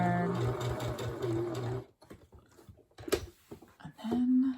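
A sewing machine stitches a three-layer fabric face mask, running in a fast, steady whirr for about two seconds, then stopping and starting in short bursts amid soft handling noises, with no talk.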